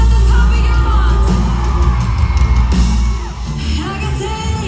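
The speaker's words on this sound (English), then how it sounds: "We want to hear every girl in here scream this with us at the top of your lungs" Concert crowd of girls at a show in Melbourne, screaming and singing along together, a loud dense roar of voices that stays strong throughout and dips slightly near the end.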